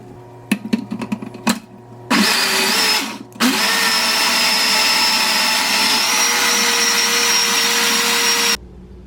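A Cocinaire blender whirs loudly as it blends a smoothie, starting with a few clunks, briefly cutting out, then running at a steady high-pitched roar for several seconds before stopping abruptly.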